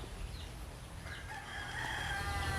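Chickens in a backyard garden with lemon and guava trees in the Mariana Islands, a rooster's crow rising faintly at a distance over steady low outdoor rumble, with no speech.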